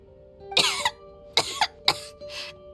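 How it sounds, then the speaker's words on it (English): Several harsh coughs from a woman, four bursts spaced over a few seconds, close and fairly loud over a low steady background hum. "How long have you had that cough"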